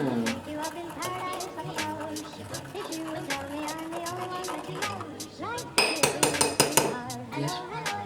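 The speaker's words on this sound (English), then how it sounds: "You take the spoon and you stir it up a bit, so you can melt the sugar down" A metal spoon stirs sugar into coffee, clinking against the cup as a quick run of sharp, bright taps near the end, while a person keeps talking throughout.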